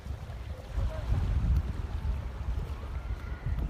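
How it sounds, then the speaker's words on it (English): Wind gusting across a beach at low tide, a rough low rumble buffeting the microphone in uneven surges, louder around the middle and end. "it's a little breezy all of a sudden"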